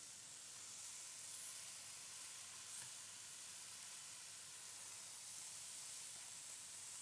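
Three heads of bok choy stir-fry in a hot pan, giving a steady, even sizzle and hiss that holds at one level throughout with no voices over it.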